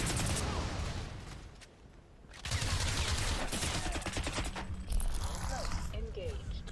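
Gunfire in Crysis Remastered, dense rapid bursts of automatic shots that are loud and nearly continuous, easing briefly before resuming, with voices talking over the shooting.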